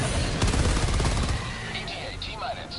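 Heavy machine gun emplacement firing in Helldivers 2: a loud, dense stream of rapid shots for over a second against a bug breach, fading into scattered game effects and chirps.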